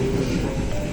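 A train running on rails between Brebes and Cianjur, a steady rumbling roll with a faint rhythmic clatter and a thin tonal whine, close and continuous.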